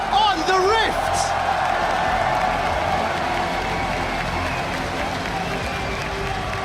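Crowd in an arena at the 2015 League of Legends World Championship quarterfinal, Flash Wolves against Origen, applauding and cheering steadily throughout, with a brief whoop near the start and a dense wash of clapping.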